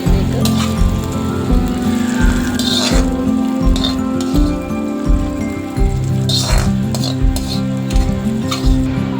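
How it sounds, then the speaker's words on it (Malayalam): Fried onion and mustard tempering is added to a Kerala-style prawn curry, then stirred, giving loud rhythmic metal scraping and clinking of a spoon against the pan over a low sizzle, repeated in regular strokes. "അങ്ങനെ നമ്മുടെ ഉള്ളി കടുകും കൂടെ വറുത്തത് ഇതിലേക്ക് ചേർത്ത് കൊടുക്കാം."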